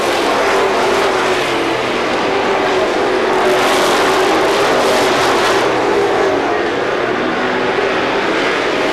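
ACT Dodge Tour stock cars racing at Star Speedway, engines roaring loud and steady from start to finish, with a crowd-like wash of noise behind them and no talk.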